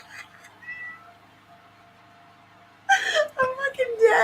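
A cat lets out wailing, whimpering meows, loud and strained, rising suddenly after a quiet stretch with a faint hum and low murmur beneath.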